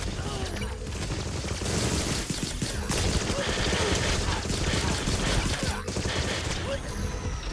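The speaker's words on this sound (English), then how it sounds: "how many times I gotta shoot you till you die?" Dense, continuous gunfire in the spy shooter Agent 64, with rapid overlapping shots forming a loud, steady roar throughout.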